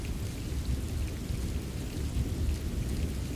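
A thunderstorm with steady, heavy rain pours down, a dense continuous roar of falling water mixed with low rumbling thunder, no voices present.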